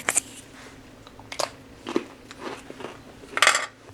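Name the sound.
crunching a hard Russian MRE cracker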